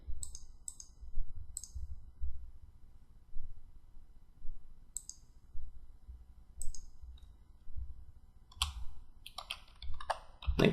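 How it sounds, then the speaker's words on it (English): Typing on a computer keyboard: scattered single key clicks at first, then a quicker burst of keystrokes near the end, crisp and close against a quiet background. "So we'll just type the same thing again as the text that would actually be displayed."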